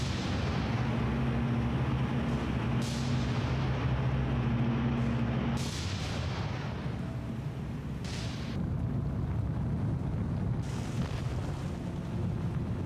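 Naval gunfire salvos in the World War II sea battle game War on the Sea: a continuous heavy rumble with a low droning tone, broken by several sharp booming blasts spaced a few seconds apart.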